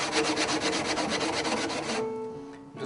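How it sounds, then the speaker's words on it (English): A curved sanding stick rasps rapidly back and forth over the wooden lining and sides of a handmade guitar, a close run of quick, even strokes that slows and stops near the end, with no talk. "this curved stick here is just putting a very subtle curved edge to the lining and the side here"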